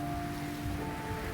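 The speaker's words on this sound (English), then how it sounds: "I hear the rain in the distance" Distant rain in the video game Iris and the Giant, a soft, steady wash of patter that stays faint and even, with a few sustained tones from the game's music drifting over it.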